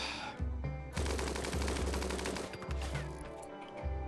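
Gunfire and bullet impacts from the video game RimWorld: rapid, dense bursts of shots over a low droning music bed, loud and continuous with no talking.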